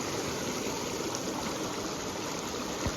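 Steady close rush of Sullivan's River, a Montana mountain river, fills the scene without letup. A small bump is heard near the end.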